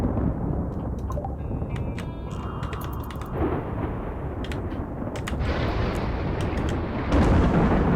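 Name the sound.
flash storm in the video game RimWorld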